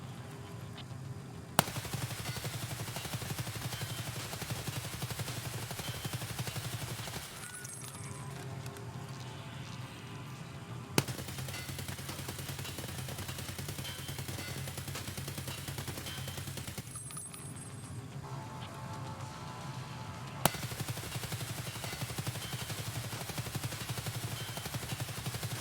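An RPK machine gun in Escape From Tarkov rattles off long, sustained automatic bursts on a firing range, loud and close, with a couple of brief pauses between strings of rapid shots.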